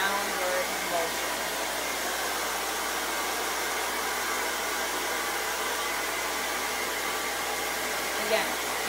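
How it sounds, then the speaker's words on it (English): A hair dryer blow-drying a wig blasts a constant, loud, close whooshing roar that holds steady throughout, with a slight shift near the end. "I will actually hold my wig and blow dry in a downward motion"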